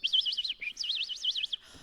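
A live storyteller at a storytelling festival imitates a bird call with two quick runs of high, warbling trills, close and clear against near silence.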